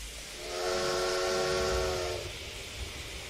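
A steam locomotive in Train Simulator Classic, on the Welsh Highland Railway and Festiniog route, sounds a sustained whistle for about two seconds over a low rumble as it sets off.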